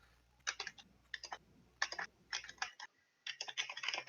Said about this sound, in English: I'm typing like a motherfucker.